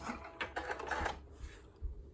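A home sewing machine running a short reverse stitch while making a fabric face mask, a quick burst of mechanical chatter that fades into faint thuds, close and quiet with no talking.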